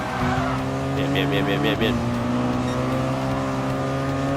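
A race car in Gran Turismo Sport brakes hard with a burst of tire squeal, then accelerates with a rising engine roar, loud and close, while someone speaks briefly over it.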